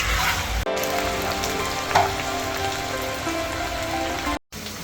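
Cumin potatoes frying in oil in a home kitchen pan, a steady dense sizzle like rain that keeps going throughout, with a brief clink partway and short breaks in the sound.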